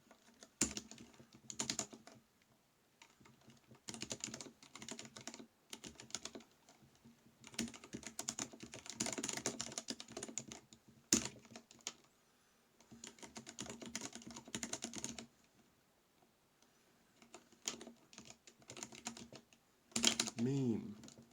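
Rapid clattering keystrokes on a ThinkPad laptop keyboard, heard in close bursts separated by short pauses, with a few louder clacks at the end.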